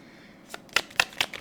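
An oracle card deck being shuffled by hand, a few crisp riffling bursts close up and fairly loud after a quiet start, without any voices.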